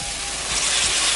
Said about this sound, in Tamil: வினிகர் சேர்த்துக்கிறேன்.